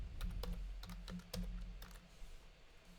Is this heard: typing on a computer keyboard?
yes